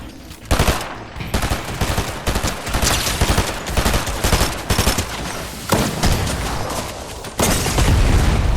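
Rapid bursts of automatic gunfire from Fortnite, dense and loud, repeated volleys with brief gaps, continuing nearly throughout with heavy booming low end.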